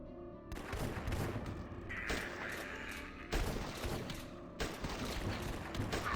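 Rapid bursts of gunfire ring out in The Last Stand, a zombie-shooting game, with loud repeated shots and crashing impacts throughout and a brief gap before the firing resumes.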